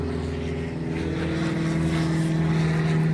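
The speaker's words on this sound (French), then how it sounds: "Voilà l'avion qui nous casse les pieds depuis tout à l'heure" A small propeller airplane drones steadily overhead above a countryside hiking trail, its engine hum and propeller buzz loud and continuous for the whole stretch with no voices.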